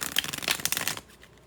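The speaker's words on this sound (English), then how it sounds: "So we're going to pull 5 oracle cards." Oracle cards are shuffled by hand in quick riffling bursts of crisp papery flutters for about a second, then go quiet, close and with no talking.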